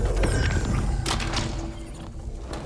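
Opening a chest in the dungeon game Dark and Darker: a wooden creak and mechanical clunk, then soft thuds and rummaging over a dull low ambient drone, with no talk.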